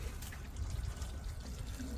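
Water pouring steadily over garden plants during watering, a soft continuous trickle and splash, quiet and close with no talking.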